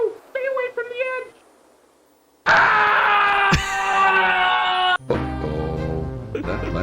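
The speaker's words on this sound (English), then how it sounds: "We get extremely loud Graham scream." Graham from the PC game King's Quest V (1990) letting out a loud, sustained synthesized scream as he falls, preceded by short game tones and followed by other in-game sound effects.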